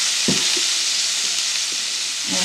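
Prawns frying lightly in hot oil in a pan, a steady loud sizzle with a few soft clunks from stirring and turning, with no talking.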